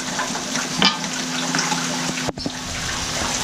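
Duck pieces cooking in spice paste in a pan, a steady close sizzle and bubbling of liquid still simmering off, with a brief clatter of stirring partway through.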